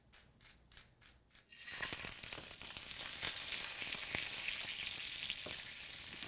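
Salmon seasoned with salt and cracked black pepper hits a pan of hot oil after a few faint clicks, then crackles into a loud, dense, continuous sizzle with sharp pops.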